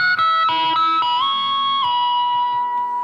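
Heavily distorted electric guitar plays harmonics in E, struck with the palm at the 24th fret: a few quick bright chimes, then one long ringing tone that sustains loud and alone.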